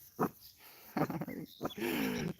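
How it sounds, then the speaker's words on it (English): A puppy gives several short, sharp yips and a longer whiny bark, close by and fairly loud, with silent gaps between the calls. "Puppy. Puppy."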